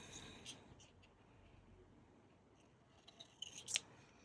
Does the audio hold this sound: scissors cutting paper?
yes